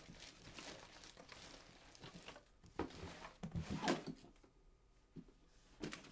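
Drawers opened and shut during a search through a house, a series of irregular wooden slides and knocks with rustling in between, fairly quiet and close.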